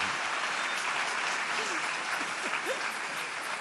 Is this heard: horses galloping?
no